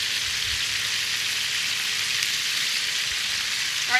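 Brown butter sizzles and simmers in a pan, a steady broadband hiss of frying that holds evenly throughout, with no talking.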